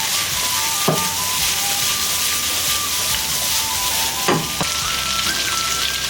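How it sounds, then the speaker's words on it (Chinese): Onion stir-fries in a hot wok with ginger and sour sauce, giving a loud, constant sizzle and hiss, with two sharp scrapes of the spatula against the metal, and no talk. "把洋葱炒一下，炒出香味来"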